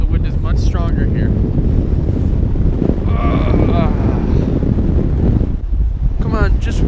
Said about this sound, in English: And the wind is stronger. The wind is much stronger here.